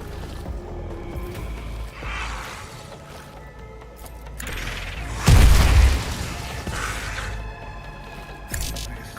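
A grenade explosion in the Warhammer 40k Rogue Trader video game lands as one heavy, deep boom midway, with softer rumbling blasts and debris before and after it.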